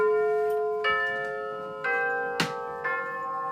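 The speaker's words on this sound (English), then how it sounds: "But this is what Rhythm's Westminster chime sounds like." A Rhythm battery-powered clock chimes the Westminster melody, its bell-like tones struck one by one at roughly one-second intervals, each ringing on with long sustained overtones in a quiet room.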